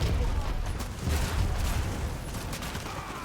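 Video game battle with a dense fusillade of gunfire and explosive blasts, a continuous loud rattle of shots and booms with no clear pauses.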